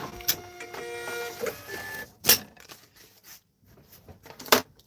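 Thermal printer feeding out a shipping label with a buzzing mechanical whir, followed by sharp tearing clicks as the label is pulled free, close and fairly quiet.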